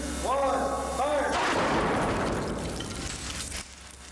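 A test missile slams into a wall of steel-reinforced concrete faced between two layers of brick: a shouted voice first, then a sudden loud blast that breaks into a long, rough crashing rumble and fades over several seconds.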